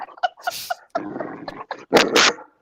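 A Great Dane puppy whimpers and yelps close by, high whines and short barks in uneven bursts, ending in two louder, longer cries.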